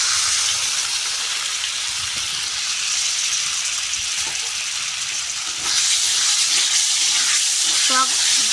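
Whisked sour yogurt goes into a frying pan of potatoes, pointed gourd and prawns, giving a loud continuous sizzle that surges louder partway through, with brief clinks near the end and no talking.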